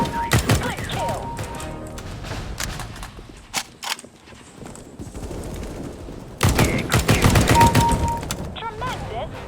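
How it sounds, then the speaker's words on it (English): Gunfire in Counter-Strike: Global Offensive, sharp bursts of rapid shots near the start and a heavier fusillade later, with quieter game noise and faint voices between. "Tremendous shooting."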